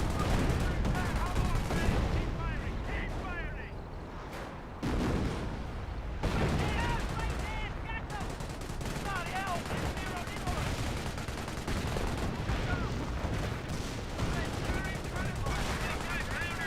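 Machine gun and artillery fire in the World War II strategy game Company of Heroes keep up a constant, dense battle roar with sustained rapid bursts and heavy thuds, while a voice talks over it throughout.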